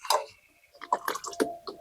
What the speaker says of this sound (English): All right, slow drip again.